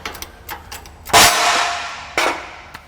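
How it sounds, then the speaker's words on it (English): Sharp metallic clangs as a pinion bearing is forced off a differential shaft: one loud strike that rings and decays slowly, a second hit about a second later, and lighter taps around them, close and with no talking. "I'm going to get this pinion bearing off and install the new one here"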